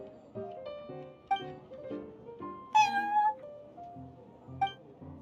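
A cat named Prince in the video game Genshin Impact, meowing several times in short, clear calls over a soft musical backdrop, with one longer, louder meow near the middle.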